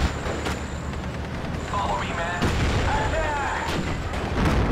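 Off-map artillery strike in the video game Steel Division: Normandy 44, sharp booming impacts landing at intervals amid whistling incoming shells and continuous battle noise, with someone talking over it.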